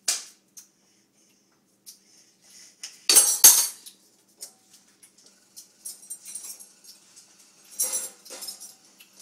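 Metal cutlery clinking and rattling in a home kitchen while dishes are put away and a fork or spoon is handed over, sparse sharp chinks with one louder clattering burst and smaller taps after it, close and with no voices.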